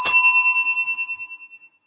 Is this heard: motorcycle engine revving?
no